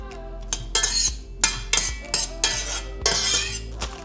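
Onions go into a hot pan on a stove over a high flame, with repeated clattering scrapes and clinks of a utensil against the pan, close and fairly loud, no talk.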